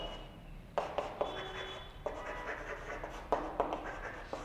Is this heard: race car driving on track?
no